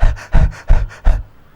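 A voice imitates a hot pet dog panting with its tongue out, giving four loud, rhythmic huffing breaths in quick succession, close and alone.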